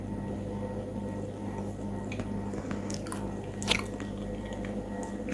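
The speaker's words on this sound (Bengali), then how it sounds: "কলা খাচ্ছি" A seedy banana is bitten and chewed close up, giving soft wet squishing mouth sounds over a steady low background hum, with one sharper bite near the end.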